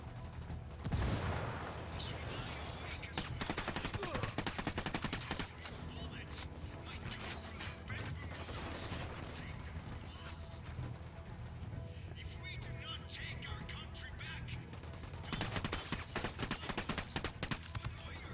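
Gunfire in the Ghost Recon Wildlands video game crackles in repeated bursts and volleys, loud and dense in places, with shouted voices mixed in among the shots.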